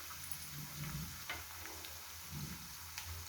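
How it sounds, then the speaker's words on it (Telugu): Prawns and gongura leaves frying in a pan, a soft steady sizzle with occasional light clicks and stirring scrapes, quiet and close. "ఇప్పుడు ఇది కూడా కొంచెం వేగనిద్దాం."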